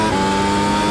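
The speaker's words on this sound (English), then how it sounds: "Oh, wheel spin." An F1 car in a sim racing game spins its wheels, with a steady, loud, high-revving engine drone throughout this short moment.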